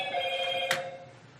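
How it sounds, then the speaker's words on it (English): A telephone rings with a steady electronic warble as it signs off during a board meeting workshop, fairly faint, with one brief sharper click midway through. "That was the phone signing off."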